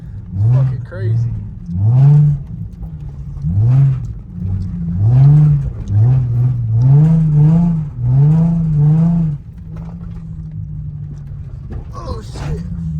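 A Nissan 350Z drifting on snowy streets after a blizzard, its engine revving hard in a rapid series of rising, bouncing surges close by, with people talking over it.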